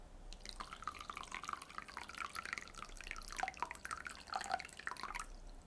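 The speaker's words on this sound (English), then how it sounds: "I'm going to pour some hot water over it and try and rinse all of that tea off" Hot water poured over a bamboo matcha whisk to rinse tea from its tines, a close, quiet trickle of irregular drips and splashes running steadily for several seconds before tapering off.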